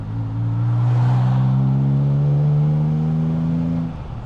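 Ford Capri 2.8 Injection engine pulling steadily on a Cornish road, a sustained close engine drone rising slowly in pitch as the car accelerates, then easing off near the end, with no talk.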